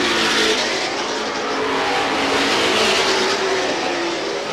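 Super modified race cars thundering down the front straightaway at Star Speedway, a loud continuous roar of engines close together that swells and holds steady throughout without any talk.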